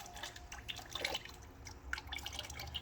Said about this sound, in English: you just sit there for a while waiting for all the coolant to drain